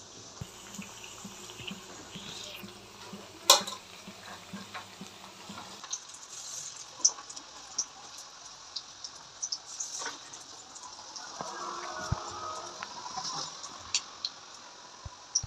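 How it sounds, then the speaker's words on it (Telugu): Food frying in hot oil until golden brown, a soft continuous sizzle and bubbling with scattered pops and stirring clinks, quiet and close throughout. "మంచిగా కాలినాయిగా, గోల్డెన్ బ్రౌన్ లాగా కాలని అన్నీ పక్కకు పెట్టుకోవాలన్నమాట"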